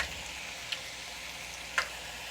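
French fries frying in grease, a soft continuous sizzle with a couple of brief sharp pops, faint and close, no voices.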